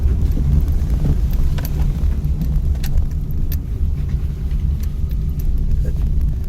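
A car's engine drones and rumbles steadily during a hill driving lesson, loud and close with wind buffeting the microphone. An instructor gives spoken directions over the sound.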